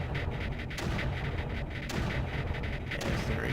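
Dense, continuous gunfire in the Creeper World video game, turrets firing steadily at an emitter, a loud rumbling stream of repeated shots with no pauses.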